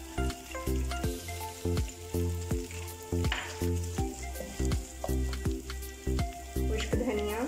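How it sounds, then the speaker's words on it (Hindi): Cumin seeds and ginger garlic paste sizzle and crackle in oil until golden. The frying hiss runs continuously under a loud, regular, pulsing tonal background. "हमारा ज़ीरा कड़कड़ाने लग गया है और लहसुन अदरक का पेस्ट भी गोल्डन हो गया है।"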